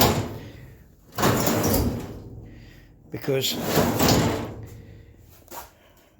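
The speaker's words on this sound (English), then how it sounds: "that drawer will move" A drawer in a restored, welded metal tool chest slides open and shut with two long scraping, rumbling runs, close and loud. Someone speaks briefly between the slides.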